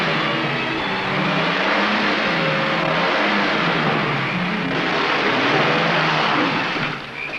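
A car revving and pulling away through mud, a steady mid-pitched engine roar that stays loud throughout before easing slightly at the end.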